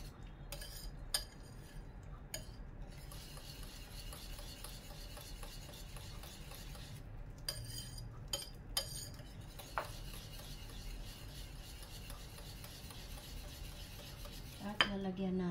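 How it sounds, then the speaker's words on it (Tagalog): A utensil stirs broccoli with parmesan, cream and mozzarella in a pan, making soft continuous scraping with occasional metallic clinks, faint and close, with no talking. "I-mix natin siya ng i-mix."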